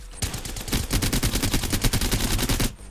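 Havoc energy rifle from Apex Legends firing a rapid, steady burst of about twenty evenly spaced loud shots, starting after a brief spin-up pause and stopping abruptly.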